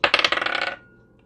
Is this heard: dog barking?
no